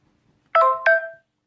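A phone gives a short two-tone notification chime, two bright, clean beeps close together that ring briefly and fade into silence.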